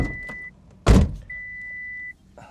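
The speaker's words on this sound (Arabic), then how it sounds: "نقفل الباب ثانيه." A Mitsubishi 3000GT car door thumps shut once, a single loud close set between quiet stretches with a faint electronic tone running before and after.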